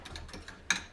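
A gas stove hob being lit: a few soft, quick mechanical ticks, then a sharper, brighter click-burst as it catches. The whole sound is faint, close and brief.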